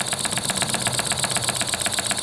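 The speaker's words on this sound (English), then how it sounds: "It sounds the same and it runs the same. It's a nice little engine." A small homemade model engine built to myfordboy's design runs steadily, its rapid, even chuffing beats close and clear with no voices.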